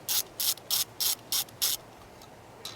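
Ratchet fitted with a 10mm deep socket loosening a nut on a Mercedes power steering filter, six crisp clicking strokes in a steady rhythm, close and clear, then near quiet.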